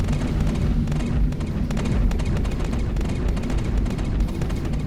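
Dense, continuous spaceship weapons fire during a Star Citizen dogfight, loud rapid bursts layered over a constant roar for the whole stretch with no pauses.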